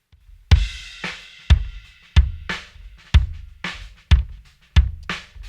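A rock drum kit plays back as a steady groove, with punchy kick and snare hits about every half second and bright cymbal wash above them, loud and with no voices.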